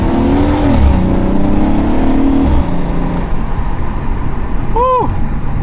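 Engine of a lowered Volkswagen Passat hums steadily from inside the car as it drives, with a low rumble throughout, a brief rise in pitch early on, a short whistle-like chirp near the end and faint voices in the background.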